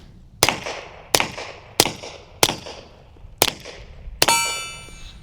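Six sharp suppressed shots from a Walther PPK SD pistol in .32 ACP with a direct-thread suppressor, fired at a steady pace about a second apart, each a short clean report with no bullet crack, the last ringing out longer.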